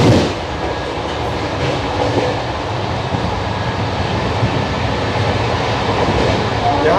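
The Kevadia Jan Shatabdi, heard from the end area of its Vistadome glass coach, runs at speed near Anand Junction with a loud, continuous rumbling roar of wheels on rails, a voice talking over it.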